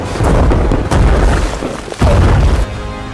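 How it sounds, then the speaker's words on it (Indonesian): Loud, booming explosion sound effects in a movie, a dense roaring blast with fresh heavy thuds hitting about a second apart and filling the whole span. "tak lama setelah ledakannya berhenti"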